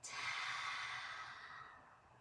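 A long, open-mouthed breath pushed out during a yoga flow: a single soft, breathy exhale, close and steady, slowly fading over about two seconds.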